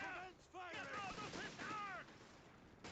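Rapid machine gun bursts and scattered gunfire in the World War II strategy game Company of Heroes 3, crackling fairly loud with battlefield voices mixed in.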